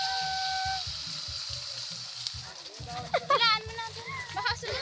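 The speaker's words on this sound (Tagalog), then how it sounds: "Magasilab na yung kawali nyo." Food frying with malunggay leaves in a hot pan, cooked outdoors on a mountain, gives a steady sizzle under lively talk from several people, including a voice.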